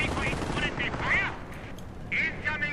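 Rapid rifle and sniper shots crack through a chaotic World War II strategy game battle against a Panther tank, loud bursts clustered together amid dense battlefield noise.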